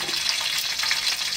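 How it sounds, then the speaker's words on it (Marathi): Three hand-broken green chilies fry in hot oil while being sautéed for a drumstick-leaf vegetable dish, giving a steady bright sizzle and crackle close up with no talking. "हे थोडा मिरचीचा कच्चा पण जाईपर्यंत ना हे तेलामध्ये परतून घ्यायचं"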